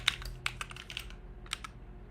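Keys clatter on a computer keyboard in quick irregular bursts of close, crisp taps with short pauses between them.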